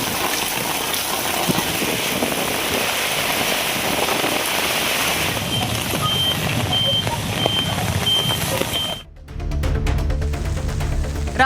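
Heavy rain pours down steadily over villages, a dense close hiss of drops on surfaces lasting throughout, with a repeating electronic beep in the middle and an abrupt change near the end; no distinct thunderclap stands out.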